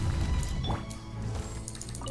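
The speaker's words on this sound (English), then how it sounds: "Drop of taint water." A drop of taint water falls in a video game, a soft liquid drip sound over a steady musical bed, brief and close, followed by lingering watery tones.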